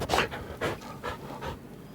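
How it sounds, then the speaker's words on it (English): A dog in the video game Baldur's Gate 3 sniffs and pants close up, with quick rhythmic breathy puffs repeating about four times over a faint hiss. "someone took an actual like little recorder and held it up to their dog's nose as they sniffed it"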